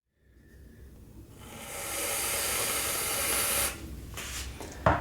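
Aerosol whipped cream hisses out of the can onto a Black Forest mug cake in one long spray lasting a couple of seconds. The spray cuts off, then a short second burst and a sharp click follow.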